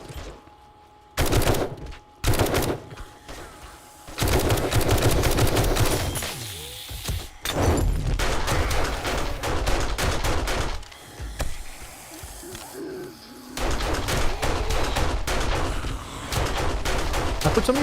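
Automatic gunfire in the End Z mod video game, with repeated rapid bursts of shots separated by short pauses. The bursts are loud and near and come over steady background game noise.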